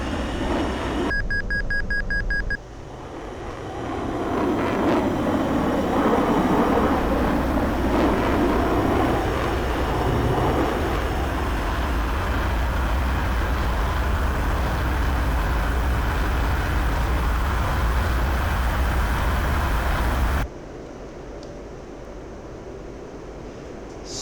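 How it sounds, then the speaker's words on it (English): A Mirage 2000 jet engine spools up during a cold start in DCS World, building into a steady, loud, broad roar that holds for about twenty seconds before cutting off, with no talk over it. "this was our Mirage 2000 aircraft startup"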